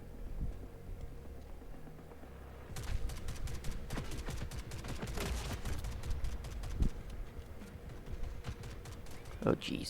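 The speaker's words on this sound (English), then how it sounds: "what the heck are they shooting at me with?" Enemy gunfire in The Forever Winter, quiet at first, then rapid crackling bursts of shots that come in clusters at moderate distance, with a few sharper single cracks near the end.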